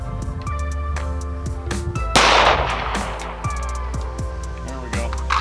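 FN 5.7 pistol fired at a Level III armor plate, a sharp loud shot standing out among ringing metallic tones and a steady hum, with short clicks and pings around it.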